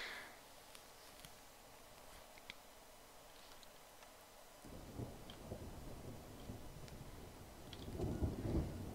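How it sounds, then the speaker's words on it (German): In the jungle survival game Green Hell, a thunderstorm rolls in: rain patters softly, then a deep rumble of thunder swells and grows louder toward the end, with no speech. "Und es kommt schon wieder Gewitter."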